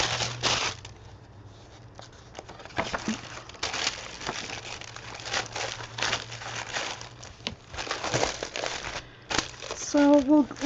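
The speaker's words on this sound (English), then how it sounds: "put a couple of wax paper so you don't glue your pages together" Wax paper crinkles and rustles in repeated bursts as it is tucked between the pages of an altered art book, close and fairly loud, with a steady low hum beneath and a brief tonal sound near the end.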